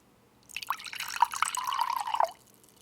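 Hawaiian water is poured into a glass for drinking: a close, bright trickle lasting about two seconds, rising in pitch slightly as the glass fills, then stopping.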